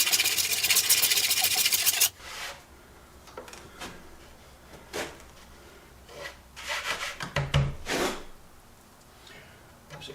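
Hand tool scraping across a rough-cut oak plaque: a dense, loud rasping run at first, then scattered short scrapes and strokes with quiet gaps between.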